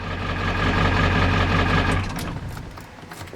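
A 1995 Ford F-350 XL with a Powerstroke diesel engine idles with a loud, steady low rumble and rattle, then shuts off after about two seconds, leaving a few faint clicks and settling sounds.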